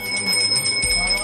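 Temple bells ring in the Gyanvapi basement, with sustained, shimmering metallic tones layered over a busy ambient background and a faint murmur of voices.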